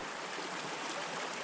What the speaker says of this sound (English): There's more water flowing through it,